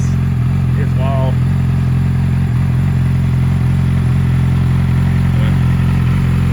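2012 Yamaha R6 sport bike engine held at high revs around 6,000 RPM, a loud, steady, close-up drone with a constant pitch throughout, while someone talks over it.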